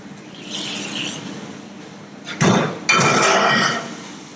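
Freshly cooked vegetables tip into a mixing bowl in a seafood cooking session, giving a couple of close, loud clattering bursts of food and utensil against the bowl after a quieter stretch.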